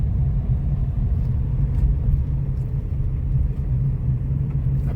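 A Tata Punch car driving at night in fog in second and third gear, its steady low engine and road rumble continuous and fairly loud throughout, with no talking.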